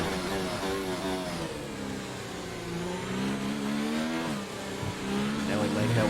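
A Formula 1 race car in the F1 2019 video game accelerates at full throttle with DRS open on a long straight, its high engine whine climbing steadily through the gears, with a voice talking over the continuous roar.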